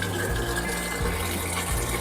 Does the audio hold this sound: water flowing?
yes